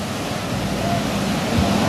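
Steady roar of ocean surf at a cold-water surfing contest, waves breaking in a continuous broad wash with wind noise, heard from shore and unbroken throughout.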